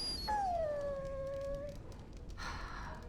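A dog in Dragon Age Origins gives one drawn-out, falling whimper-howl, close and clear, followed by a short rustling noise with no talk.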